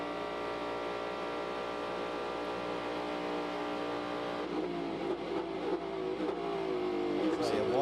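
Race car engine at the Rolex 24 at Daytona in bright morning sunshine, a steady loud sustained drone that shifts pitch partway as the car brakes and revs near turn 1, with a commentator talking over it.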